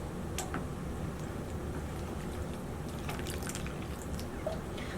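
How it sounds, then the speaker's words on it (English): Water poured onto a dry snapdragon seedling in a pot, a steady close trickle and patter of liquid running continuously with a few brighter drips on top. "While I'm here, I'm going to water this one. This one's a little bit dry."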